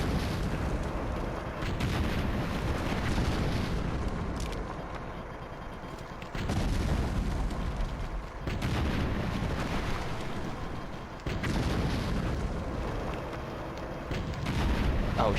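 Explosions and gunfire in the GameCube shooter Tom Clancy's Ghost Recon 2, a loud sustained rumble of blasts and shots that swells and dips every few seconds, dense and continuous with no clear pauses.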